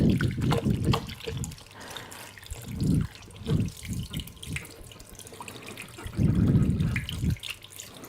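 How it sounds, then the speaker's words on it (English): Hands being washed under a running tap of hot water, a steady close splashing stream with irregular louder gushes as the hands move through the flow, no talking. "I'm just going to wash my hand with hot water"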